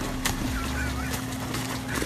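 A swan attacking a dog beside its pond gives repeated harsh honks over a constant background hum, with faint splashing and scuffling in between.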